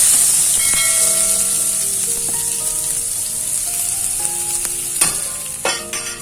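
Chopped onion sizzling in hot oil in a pan with curry leaves while cooking a Karnataka pumpkin palya, a steady loud fry hiss throughout with faint stirring clicks and a couple of sharper crackles near the end.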